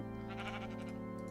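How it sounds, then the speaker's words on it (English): Sheep bleating in the OrgelCraft video game, a steady drawn-out bleat over a constant background hum, close and moderately loud with no talk. "all the sheep come over here"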